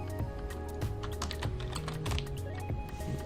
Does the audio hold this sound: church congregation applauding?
no